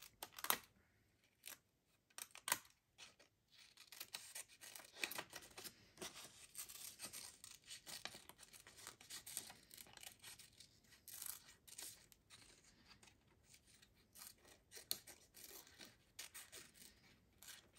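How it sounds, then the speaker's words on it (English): Scissors cut out a paper flower shape, producing quiet, rapid, continuous snipping and crisp paper rustle that rises and falls in clustered bursts, with no talking. "I'm just going to cut out this one flower here because it's a really easy one to cut out"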